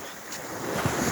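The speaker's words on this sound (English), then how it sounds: "Check out these waves in the bay." Early-morning ocean waves in a bay, a steady washing surf with a continuous wind rush that rises slightly toward the end, no voices.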